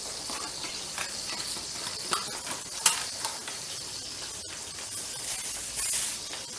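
Aunt Jemima quick grits stirred in a pot with a spoon: a steady hiss and bubbling of simmering grits continue throughout, with faint scraping stirs and a few soft clinks.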